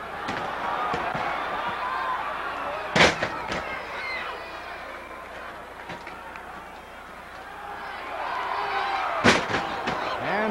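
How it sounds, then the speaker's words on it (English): Two wrestlers hitting the ring mat with body slams, two loud heavy thuds several seconds apart, with a crowd roaring and noise throughout in a 1960s arena; a commentator's voice can be heard. "And they take turns at body slams."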